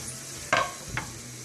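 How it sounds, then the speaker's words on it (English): Vegetables being stirred into a simmering nacho mixture in a pan, giving two brief scraping, sizzling strokes about half a second apart against a low background. "I'm just going to carefully just work the vegetables into the mixture"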